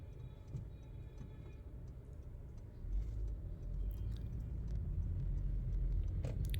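Car driving and turning right on a road near Jhelum, a steady low road rumble and engine hum heard from inside that grows heavier partway through, with faint ticking.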